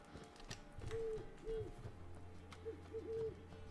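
An owl in The Witcher 3 hoots softly in a few short, low calls spaced across the moment, faint and distant over a quiet game ambience with a low hum.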